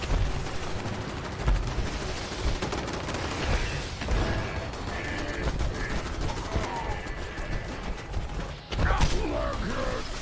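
Rapid gunfire in Fallout 76, with clattering shots and mechanical creaks over a busy game soundscape, a sharp loud burst near the end, and a voice talking at times.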